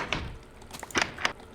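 A video game door opening or closing, heard as a few short, soft clunks and taps, quiet and close, with no talking.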